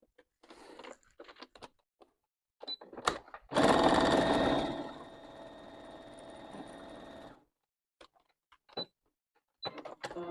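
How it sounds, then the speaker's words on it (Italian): A sewing machine stitching fabric pieces placed right side to right side along the edge of the presser foot: a loud, steady mechanical whirr runs for about four seconds, set between short bursts of clicks and handling taps. "andate a cucire a bordo piedino"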